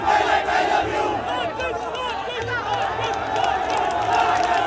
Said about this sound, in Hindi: किस तरीके से उनके समर्थक जो है वो उनके पक्ष में नारे लगा रहे हैं